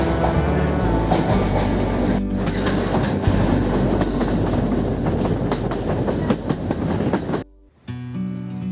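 A train at a railway station in a Hungarian town rumbling loudly and steadily, with wheel clatter and screeching rail noise, cutting off briefly near the end.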